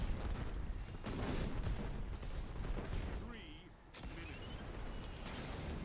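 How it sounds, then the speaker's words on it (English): Rapid gunfire and booming weapon blasts in the Destiny 2 video game roll on in dense, loud bursts, with a brief lull before the shooting resumes. "Just shoot it at the wall."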